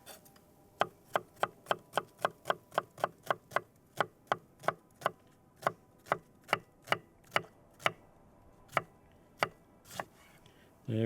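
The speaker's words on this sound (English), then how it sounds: "If you don't mind, I'm gonna chop this up." An onion being chopped with a knife on a board at a campsite meal prep for meatballs and salsa, a long run of about twenty crisp, evenly spaced chops, close and clear, slowing slightly toward the end.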